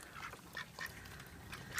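Backyard ducks quack in a garden near a filling mud pool, several short nasal calls scattered over a soft outdoor background, moderately distant and fairly faint.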